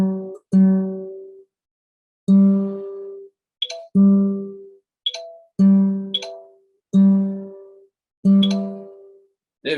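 An acoustic guitar G string is plucked after being retuned, repeated single notes ringing out one after another with clear gaps between them, close and alone with no talking.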